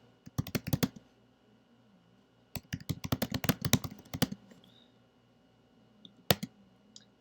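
Bursts of rapid clicking keystrokes on a computer keyboard, close and crisp, arrive in three clusters separated by quiet pauses, with no voices present.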